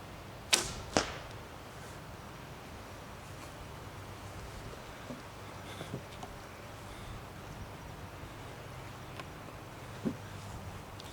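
Arrows shot from a bow with a finger release: two sharp twangs in quick succession near the start, then a lone softer thump much later against a quiet outdoor background.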